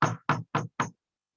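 Four firm knocks on a door in an even, quick rhythm, close and loud, with nothing else heard around them.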